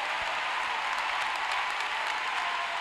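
A church congregation claps and applauds in praise, a steady broadband wash of many hands that stays loud and even throughout.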